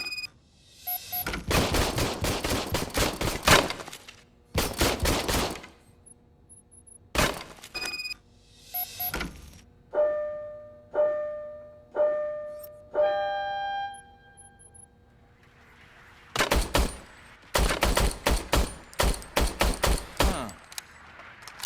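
An old, serviced police service pistol test-fired in Robocop: Rogue City, sharp gunshots in several rapid bursts with ringing, glassy metallic tails, separated by short pauses and quiet gaps, with no talk.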